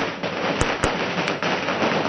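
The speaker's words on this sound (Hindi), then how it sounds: "ये जो पटाखे आप फूटते हुए देख रहे हैं" Firecrackers bursting on a street in Jammu: sharp loud bangs, three distinct cracks over a steady roar of crowd and street noise.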